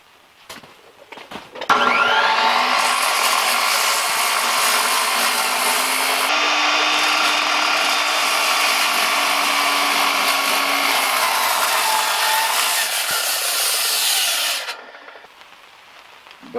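A saw cuts steadily through a planed timber frame beam for over ten seconds, a loud continuous close rasp with a clear start and finish and no talk over it.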